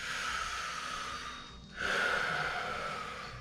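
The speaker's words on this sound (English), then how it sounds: "Two more breaths" Slow, audible breathing during a yoga class for Brazilian jiu-jitsu practitioners: a long airy exhale, a brief pause, then a strong nasal inhale, close and steady, without talk.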